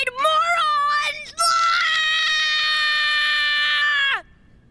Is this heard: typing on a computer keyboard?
no